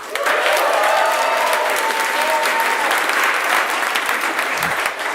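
An audience at a stand-up comedy show cheers and applauds loudly and continuously, a dense steady roar of clapping with whoops mixed in, filling the room.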